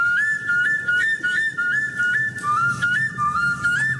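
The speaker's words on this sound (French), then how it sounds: "c'est bien une flûte plutôt classique" A flute made from a vulture's ulna bone plays a thin, steady melody of sustained and stepping whistle-like notes, clear and close, with no voices.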